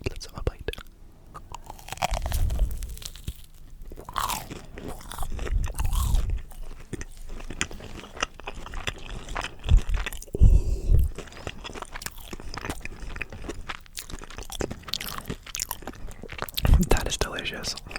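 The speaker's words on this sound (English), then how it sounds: "And let's have a bite." Hungry Jack's chicken nuggets dipped in ketchup are bitten and chewed close to a microphone, giving several crisp crunches and wet chewing sounds, with soft whispered talk between bites.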